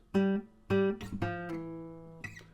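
Single plucked, muted notes on an acoustic guitar at the 5th fret of the D string, several short damped tones in a row, close and clear with no talking.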